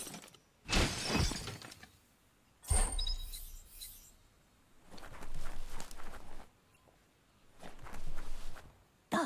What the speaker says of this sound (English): You shouldn't worry about smashing up the box.